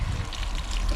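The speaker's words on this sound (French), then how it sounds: "Voilà, un bon coup d'arrosage." Water pours from a watering can onto a large potted plant, a close, steady trickling splash that continues without a break.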